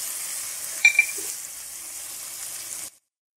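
Tomatoes with salt and red chili are stirred in a frying pan for chicken tikka biryani, a close steady sizzle with a couple of light scrapes of the spoon, cutting off abruptly.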